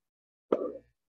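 A voice imitates the pop of a sparkling wine cork being pulled, giving one sharp, close plop that fades within a fraction of a second against silence.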